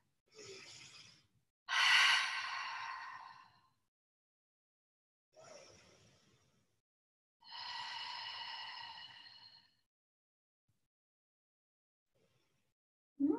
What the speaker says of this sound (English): placing our hands below our belly button, and we breathe. Take 3 deep breaths.